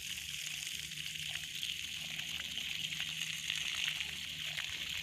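Water gushes steadily from a 24-volt solar-powered DC submersible pump, a 2021 Rotomag-type motor on a freshly drilled bore, producing a continuous, fairly faint hiss and splash that stays even throughout.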